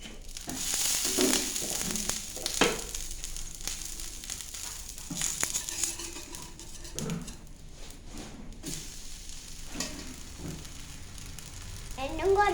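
Dosa frying on a hot pan after being flipped, a soft steady sizzle with occasional scraping and clatter of a spatula, fairly quiet throughout.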